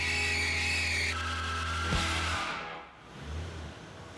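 A smooth-running Packard car driving, its steady low engine drone close and continuous, dipping briefly before settling back, with no talk over it.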